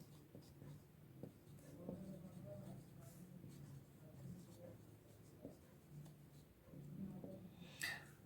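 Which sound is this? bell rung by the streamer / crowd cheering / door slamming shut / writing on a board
writing on a board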